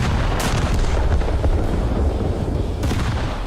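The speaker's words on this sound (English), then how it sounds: "A single barrage from its 381mm heavy guns can easily condemn any ship to a very long stay in the repair dock" Heavy 381mm naval guns of the battleship HMS Hood boom in the War Thunder video game, a loud, dense barrage with sharp blasts near the start and end over a continuous low rumble.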